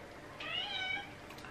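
A single cat meow, one short rising-then-falling call heard fairly close in a quiet room, with no one talking over it.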